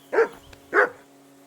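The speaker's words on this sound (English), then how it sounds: "that barking's driving me nuts" A dog barking in Kingdom Come: Deliverance II, three loud, evenly spaced single barks close by, with a faint hum underneath.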